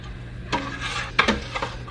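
A spoon stirs sugar into milk in a pot while homemade yogurt is being made, giving soft scraping swirls and a couple of sharp metallic clinks against the rim, quiet and close.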